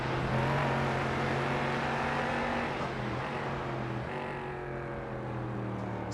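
An LMP3 prototype race car in iRacing at the Mid-Ohio Sports Car Course drones with a steady, continuous engine tone that dips and shifts pitch as it runs, loud and unbroken.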